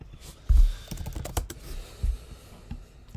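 Keys on a computer keyboard clatter in quick irregular bursts, a run of close, crisp clicks with a few heavier thumps, heard alone without speech.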